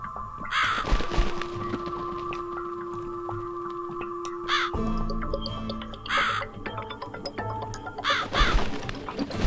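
Crow in The Cat Lady video game giving several harsh caws spread across the stretch, set against a humming, tonal ambient backdrop with occasional sharp clatters.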